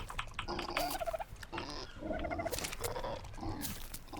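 Dodo birds in the survival game ARK Survival Evolved, a run of nasal gobbling, clucking calls in repeated bursts that overlap one another, fairly close with no voices.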